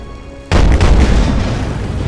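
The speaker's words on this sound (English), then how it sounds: "Oof, that artillery." In the Napoleon Total War game, artillery fire opens with a sudden loud boom that rolls into a sustained rumbling roar of battle noise, with no talking.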